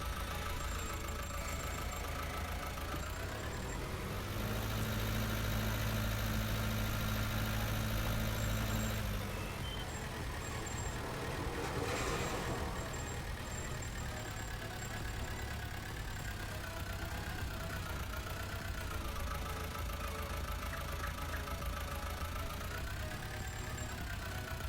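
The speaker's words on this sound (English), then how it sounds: "There's a tractor with a sprayer on." A tractor fitted with a sprayer idles in Farming Simulator 19, a steady mid-pitched engine drone with a brief louder surge partway through, continuing alone without talk.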